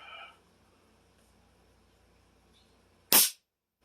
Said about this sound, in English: I'll just shoot a blank real quick.